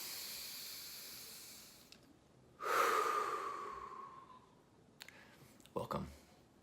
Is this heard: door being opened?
no